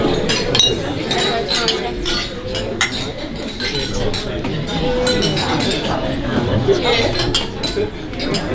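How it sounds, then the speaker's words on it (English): Glasses clink repeatedly and irregularly throughout a wedding reception toast to the newly married Mr. and Mrs. Matthews, bright close chimes of glassware scattered over a steady murmur of crowd chatter and movement in a busy room. "raise a glass and toast the new Mr. and Mrs."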